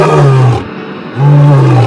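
Two loud, close lion roars, each a deep sustained growl of about half a second, separated by a short pause.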